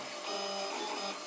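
Steady whirring hum of a 3D printer running slowly while printing a small part, with fan noise and a faint continuous high tone, close and unchanging.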